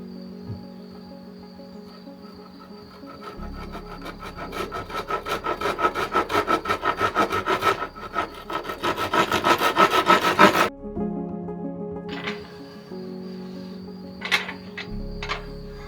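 A handsaw cuts through wood pieces in quick, rhythmic back-and-forth strokes that build in loudness, then stop abruptly, followed by a brief pause, some light handling knocks and the sawing resuming near the end.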